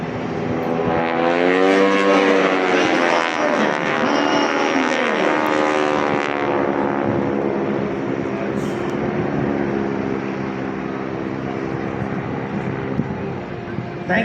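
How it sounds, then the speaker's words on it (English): Classic World War II T-6 trainer aircraft fly past at an air show on Jones Beach, a loud droning propeller engine with shifting pitch that swells and fades over a steady roar, with an announcer talking over it. "We're proud to be able to demonstrate to you the capability of these classic World War II T-6 SH aircraft"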